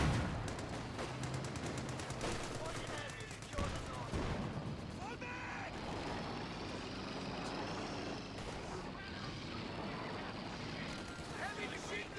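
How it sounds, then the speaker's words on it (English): Heavy machine gun fire in the World War II strategy game Company of Heroes 2, sustained rattling bursts mixed with explosions and battlefield noise under a voice talking. "Heavy machine gun!"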